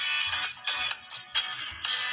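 A phone rings in repeated electronic bursts, each lasting about half a second, heard clearly with no talking over it.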